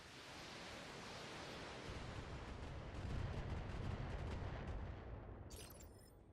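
Heavy weapons fire rumbles through a mech battle in the video game BattleTech: Flashpoint, a dense, roaring wash of blasts building to a loud peak midway before tapering off, with no voices.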